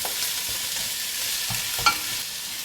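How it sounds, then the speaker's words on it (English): Vegetables sizzle and fry in a pot at the start of a bone broth, with a steady crackling hiss, a few soft stirring scrapes and a clink of utensil on the pot, close up and without voices. "So cook those veggies for just 1 or 2 minutes, just quickly like this."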